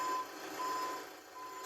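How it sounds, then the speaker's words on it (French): A truck delivering donations to a flood-hit town sounds steady reversing beeps, evenly spaced and moderately near, over a faint engine and street rumble. "3 camions remplis de dons arrivent à Theux."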